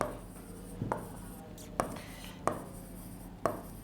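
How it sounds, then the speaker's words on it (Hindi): A teacher writing on a board, with sharp, scattered chalk-like taps and strokes sounding a few times over a quiet room hum, close and distinct. "इधर लिखते हैं"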